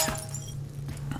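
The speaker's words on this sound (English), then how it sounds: "Hitting glass with a hammer in order to repair it." Hammer striking glass to repair it in a video game, giving a few short, bright clinks and a glassy crack over a low steady hum, with no talking.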